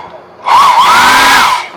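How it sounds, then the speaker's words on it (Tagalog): An air blower in a hotel room in Clark, Pampanga switches on with a loud, close, steady whirring roar that holds for about a second before cutting off. "Nagana kaya itong blower?"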